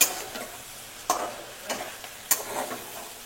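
Vegetables roasting in a pan for a Bhogi and Sankranti festival dish, soft sizzling under sharp scraping stirs of a spoon roughly once a second, close and alone without talk.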